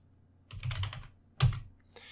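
Someone types a short sudo command on a Kali Linux computer keyboard, giving two close bursts of quick key clicks with a brief pause between them.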